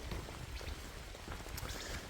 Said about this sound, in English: It's drizzling, raining, whatever you want to call it.